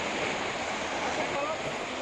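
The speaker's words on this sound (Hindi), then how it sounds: "यहाँ किस तरह पानी का सैलाब है" Floodwater rushing through a village after a sudden surge, with cattle stranded in the current near a riverside cremation ground; a steady, dense roar of churning water that carries on without a break.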